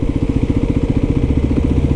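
The engine of a new 2023 Kawasaki KLX300SM motorcycle runs close by at a steady idle, a loud even single-cylinder thump with a rapid regular pulse all the way through.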